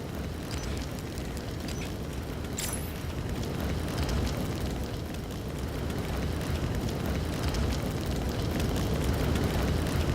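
Roaring, crackling fire effect from a flare in the Halo Forge video game, a steady dense rush that swells slightly and holds for about ten seconds, with no talk over it.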